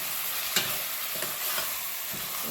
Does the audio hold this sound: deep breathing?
no